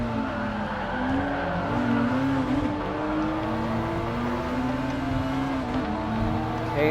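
Race cars in Gran Turismo Sport pulling away on the green light, a dense steady roar of engines climbing in pitch together, loud and continuous with no pauses.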